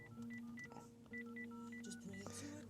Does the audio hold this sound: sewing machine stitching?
no